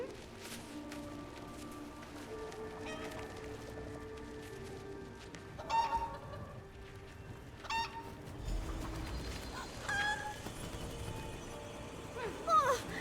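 A chicken in The Elder Scrolls Online clucks in short, scattered bursts over a low, busy game ambience, with a few louder calls spaced several seconds apart.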